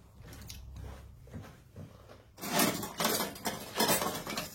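A wire whisk is handled among dishes, pots and pans while bouchées à la reine are prepared, clinking and scraping softly at first, then growing into louder, busier metallic rattles and clatter, with no talk.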